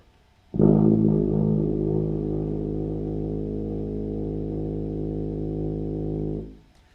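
A tuba holds a single low A flat steadily for about six seconds, full and buzzy, starting firmly and fading out at the end.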